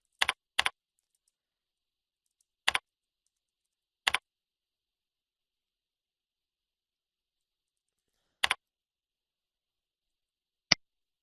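A handful of isolated keystrokes on a computer keyboard, quick clicks in small bursts separated by long silent gaps, close and clear.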